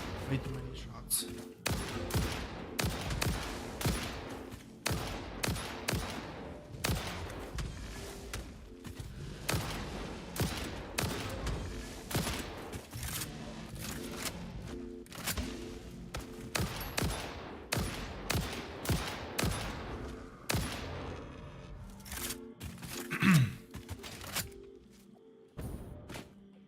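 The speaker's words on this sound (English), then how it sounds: "these are definitely way too many shots" Rapid bursts of gunfire from the factory-building game Satisfactory, many shots cracking in dense irregular volleys for nearly half a minute, with occasional heavier thuds mixed in and a voice talking now and then.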